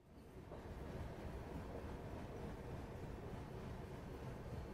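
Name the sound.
Tirumala Express train running on rails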